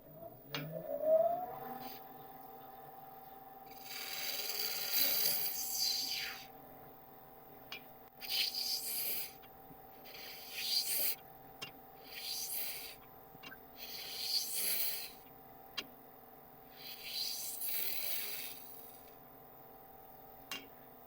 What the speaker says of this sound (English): then we can sand the inside here